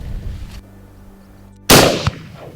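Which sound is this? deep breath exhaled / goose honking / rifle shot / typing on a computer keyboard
rifle shot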